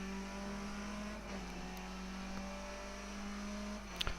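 Race car engine in the iRacing sim, a Skip Barber car at Donington Park, holding a steady loud drone with a sustained tone that climbs slightly as the throttle opens back up, with a brief sharp click near the end.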